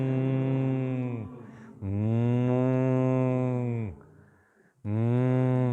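A human voice imitates a cow mooing with long, loud, drawn-out moos, two sustained calls and the start of a third, with a short breathy gap between them.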